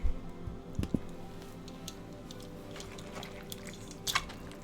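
Soft, wet squishing and dripping while pupusa dough is worked by hand, close and quiet, with a few sharper clicks and squelches scattered through.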